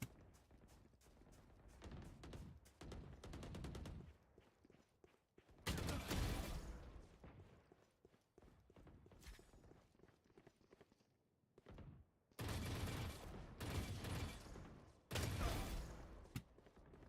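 Video-game gunfire erupts in several loud bursts of rapid shots, separated by quieter stretches of rattling game noise, with no talking.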